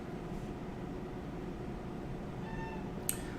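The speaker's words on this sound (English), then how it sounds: "I just elbowed my cat." A house cat lets out a single faint meow after being bumped by an elbow. The brief cry sits over a steady background hiss, followed by a small click.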